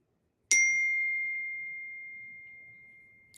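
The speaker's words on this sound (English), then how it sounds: "sorry, I got a text message" A single bright phone text-message ding strikes once and rings out cleanly, its tone slowly decaying over about three seconds against near silence.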